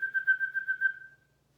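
A person whistles to call a dog, a steady, warbling single-pitch whistle pulsing several times over about a second before stopping, fairly quiet and alone.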